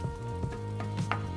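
Eggs being scrambled with greens in a pan over medium heat, soft sizzling with a few scraping stirs of a utensil, close and quiet.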